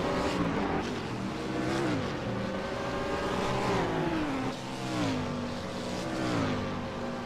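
Loud, continuous roar of race cars at the Spa-Francorchamps circuit during a two-hour endurance race, engine notes rising and falling as cars work through gears, including a Mercedes, with no talk over it.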